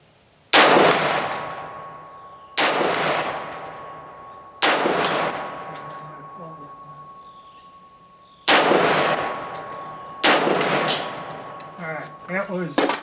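An Anderson AM-15 rifle fires 55 grain ammunition outdoors: five loud, sharp shots at uneven intervals, each with a long echoing decay and faint clinks between.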